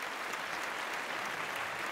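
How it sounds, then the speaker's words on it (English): Light, steady applause from a small group on a podcast, a soft even patter of clapping held throughout at moderate distance with no talking over it. "So kudos, round of applause to Ashley for that."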